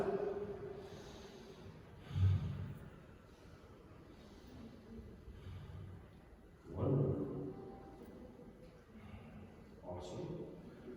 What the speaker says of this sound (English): And now take 3 of those beautiful breaths for yourself.